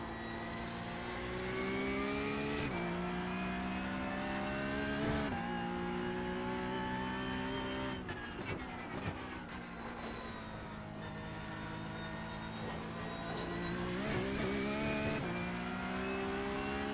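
A Porsche Cup car races around the Nürburgring in the iRacing simulator. Its engine holds a loud, steady, high-revving note with sharp pitch drops and rises through several gear changes, and there is no talk.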